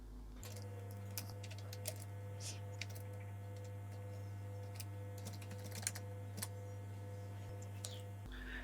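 Rapid keystrokes on a computer keyboard as an IF formula is entered in Microsoft Excel, a steady patter of close, light clicks over a constant low mains hum, with no talking.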